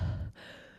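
A voice imitates Michael Myers' heavy masked breathing from the film Halloween: one short, breathy exhale that fades into a quieter airy tail.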